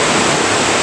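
A river rushing at Lembah Cipanas in Bogor, a loud, steady roar of flowing water heard up close with no other sounds.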